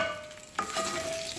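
Bacon sizzling in hot grease in a cast iron pan, a soft steady crackle with a sudden louder spatter midway, fairly quiet and close.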